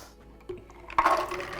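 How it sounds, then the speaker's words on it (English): Water strained off soaked almonds: a brief quiet rustle, then a sudden pour and splashing stream of liquid, close by, with no talking. "I'll just quickly strain these over here"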